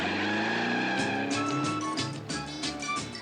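A modified Volkswagen Beetle fitted with a Porsche engine accelerates hard, its loud engine note climbing and shifting through rapid revving surges, close and dominant with no talk.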